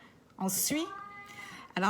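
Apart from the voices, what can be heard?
pet cat meowing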